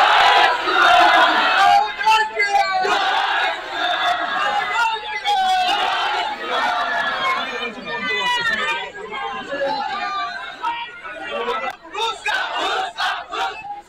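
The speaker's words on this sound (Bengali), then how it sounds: "ঈশা খানকে ঘিরে গো ব্যাক স্লোগান।" Crowd of protesters in Malda shouting go-back slogans around MP Isha Khan, a loud dense mass of overlapping raised voices and rhythmic chanting that continues throughout without pause.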